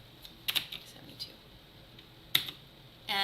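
A few sharp computer keyboard key clicks, likely the tab key, come as isolated taps, two close together early and one more later. A voice starts speaking at the very end.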